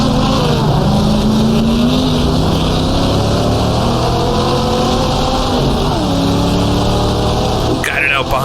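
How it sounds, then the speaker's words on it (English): A 1960s sportscar in the GTR2 racing game, at the Monza 1000 km, drops down to second gear while passing an Alfa. The engine drones loud and continuous at high revs, with its pitch sliding and dipping as gears change. "Down to second gear up the inside of one of the Alphas."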